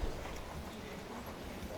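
Horse hooves clip-clopping steadily during a riding lesson, a continuous rhythmic beat under a noisy, wind-like background.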